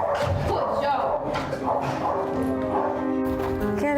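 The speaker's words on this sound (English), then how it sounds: "כלב טוב." A trained guard dog given to a domestic violence survivor in Israel barks repeatedly in sharp, loud bursts, mixed with people talking and shouting commands close by.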